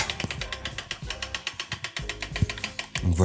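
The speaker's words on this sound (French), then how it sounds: "je vais venir dévisser ma manivelle grâce à une clé hexagonale de 5" A 5 mm hex key clicks through a ratcheting action while unscrewing the crank bolts on a road bike. It makes a fast, even run of sharp mechanical ticks, close and fairly loud, with no voice over it.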